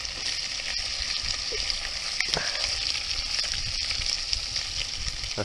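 Rainbow trout sizzle steadily in a hot pan at close range, with a continuous bright crackle of oil and a few clicks as the fillets are laid down and shifted.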